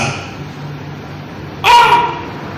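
A dog near a goat gives a short, sharp bark or yelp over a steady low hum and background noise, standing out as a single brief burst.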